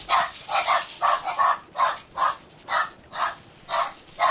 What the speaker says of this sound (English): I gotta check and see what the dog's barking over